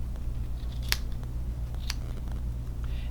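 Scissors snipping through loops of yarn on a handmade Christmas yarn tree, two crisp cuts about a second apart, close over a low steady room hum.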